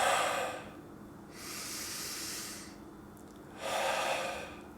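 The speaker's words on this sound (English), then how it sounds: "So I'll just take a couple of really deep breaths." Two slow, deep breaths are drawn close to the microphone: a long airy inhale and exhale, a quiet pause, then a second deep breath, soft and hissy against near silence.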